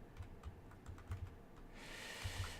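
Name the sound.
typing on a computer keyboard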